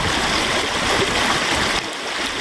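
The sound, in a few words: water flowing through collapsed dam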